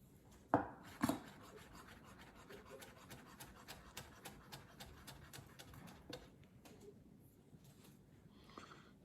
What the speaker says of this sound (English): I'm gonna julienne or chiffonade these